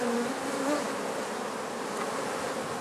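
Honey bees buzz in a steady, dense drone throughout a honey harvest from the hives, with the swarm sound close and continuous and no one talking.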